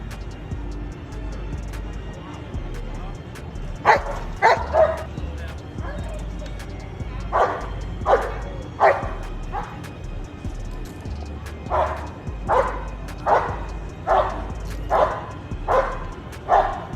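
A dog barks repeatedly from a played video, sharp barks arriving in two clusters of several each, heard at moderate level over a steady background hum with voices present.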